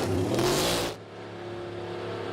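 NASCAR Cup cars roar off pit road at Phoenix Raceway, a loud engine blare that cuts off sharply around one second, leaving a steady lower drone of engines continuing.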